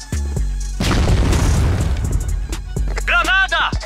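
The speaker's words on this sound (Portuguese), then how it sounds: "Granada!" A grenade blast in the online shooter CrossFire booms loud and close, followed by crackling debris and a shorter pop near the end.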